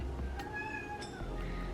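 Molly, a pet cat, gives two short meows in quick succession, close and fairly soft, over a steady low indoor hum.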